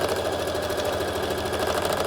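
A sewing machine runs continuously while sewing a straight stitch on trousers, giving a fast, even mechanical whirr with a rapid rhythmic needle chatter close by.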